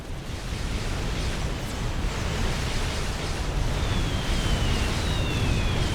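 Bombs dropped by bombers in a 6v6 video game battle explode in a dense, continuous roar of rumbling blasts, loud and sustained throughout, with no talk.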